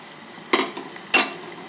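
Tempering spices for tomato coriander dal crackle and sizzle in hot oil in two quick bright bursts, close and fairly loud over a faint background hiss.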